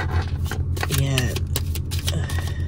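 Tarot cards being shuffled by hand, a soft papery riffling and rustling under steady low background hum, with a person speaking over it.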